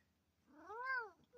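A single drawn-out cat meow rises and falls over about a second. It is clear and fairly close, with no talking.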